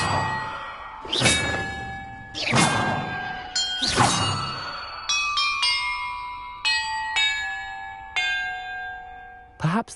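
Bells ringing in Hogwarts Legacy: three loud, clanging strikes early on with long shimmering decay, followed by a series of lighter, overlapping tolls at differing pitches, each ringing out clearly with no talking.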